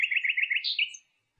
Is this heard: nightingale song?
yes